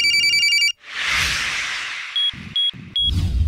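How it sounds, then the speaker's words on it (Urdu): A mobile phone rings with bright electronic tones, cut off by a sweeping whoosh, followed by short beeping chirps and a burst of noise; clear and close with no talk. "اس میں اس کی موبائل کی گھنٹی بجی"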